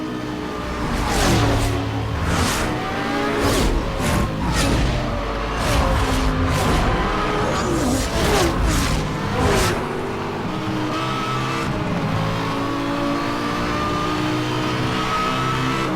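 A Lamborghini Gallardo in Need for Speed Hot Pursuit Remastered revs hard and shifts through gears, with rising engine whine, repeated sharp bursts and tire noise, settling into a steadier drone toward the end.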